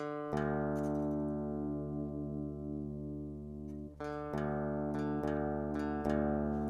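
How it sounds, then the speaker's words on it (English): Guitar strings sounded together while the low E string is detuned down to match the open D string, sustained tones with slow beating, re-plucked several times near the end. "tune your low string down until they sound the same"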